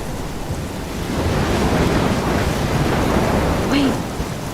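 A storm in the video game Life is Strange, heard as a continuous roar of wind and rushing rain that swells in the middle, with low rumbling underneath and a faint whistling sweep near the end.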